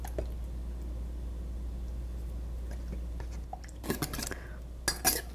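Salt being stirred into a tomato marinade with a utensil, giving a low background hum broken by a few faint early scrapes and then clustered clinks and scraping bursts near the end, with no talking.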